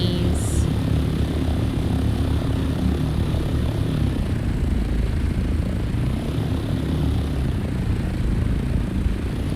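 A plane flying in the Dune: Awakening video game: a steady, loud engine drone with propeller-like rumble that holds unbroken throughout.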